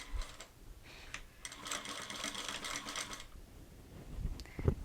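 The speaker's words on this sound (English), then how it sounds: "And then I finish out my seam." Sewing machine stitching out a seam on a backpack, a dense steady run of rapid needle strokes through the middle, with quieter stops and starts around it and some handling bumps at the end.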